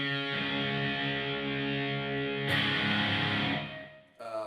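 A guitar's low E string, tuned a whole step down to D, is plucked and rings out, sustained, then is struck again and fades before a final quick pluck.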